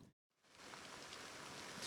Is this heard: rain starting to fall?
yes